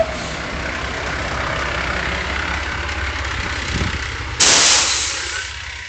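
A truck's engine rumbles steadily and fairly loud close by, then a sudden sharp hiss of air bursts out near the end and slowly fades.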